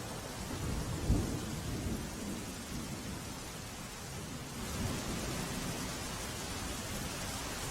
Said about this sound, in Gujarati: ફરી વરસાદે કહેર વર્તાવ્યો છે.